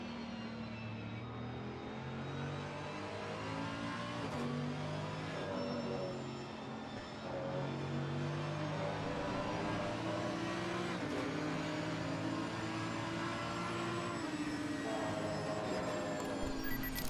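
GT race cars in a Spa 24 Hours sim racing esports event, three abreast on a long straight, with a McLaren among them: a steady, loud blend of engine drones and rising, overlapping pitches throughout, with no talk.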